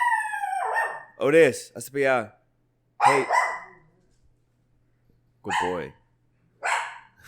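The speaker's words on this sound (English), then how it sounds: "He's like our guard dog" Otis, a feisty pet guard dog, barks several times in short loud bursts, close by, with brief gaps between them, while people speak a few words.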